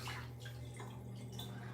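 Hot water splashing and dripping in a tub, with a steady low hum underneath and a few soft, faint splashes and drips.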